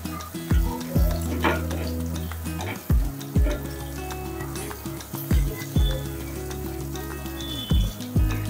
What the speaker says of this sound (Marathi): आपण ओबडधोबड जो कुटून घेतलेला लसूण आहे तो घालूया